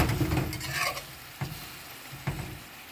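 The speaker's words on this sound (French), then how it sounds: "je vais la bouger légèrement pour qu'elle prenne bien toute la graisse" A thrush browns in a pan with its fat and juices, giving a steady soft sizzle while a utensil moves it, with a few sharp scrapes or taps against the pan.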